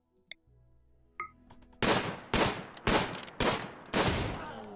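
Gunfire in the video game RimWorld: after a few small interface clicks, five loud bursts of shots ring out in quick succession, each trailing off briefly, with no talk.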